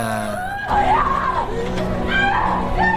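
A woman in a Filipino horror film lets out high, wavering screams that rise and fall over a few seconds, loud and close, mixed with other voices talking.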